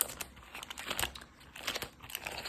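Paper cash budget envelopes and bills crinkle and rustle as they are handled up close, in quiet irregular bursts of crackling with no talk.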